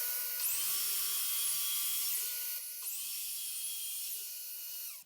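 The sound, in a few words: cordless circular saw cutting wood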